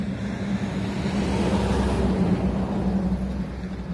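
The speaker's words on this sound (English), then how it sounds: "in between vehicles driving by" Steady roadway traffic rumbles past a parked Dodge Pleasureway camper van, a continuous loud wash of cars and trucks with a low engine drone and no break, heard alone without voices.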